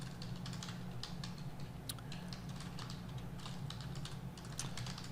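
Computer keyboard typing, a steady run of quick, light key clicks at a close distance over a constant low hum.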